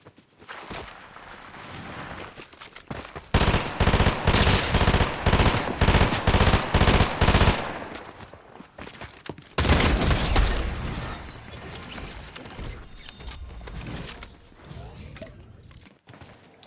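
Rapid bursts of automatic gunfire crackle through a video game firefight, dense volleys clustered in two long loud stretches with quieter scattered shots and ambient rumble between them.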